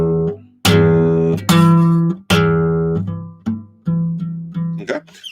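An acoustic guitar plays E notes at the 12th fret, a series of about six or seven bright plucked tones ringing out one after another, each decaying before the next pluck, with no voice.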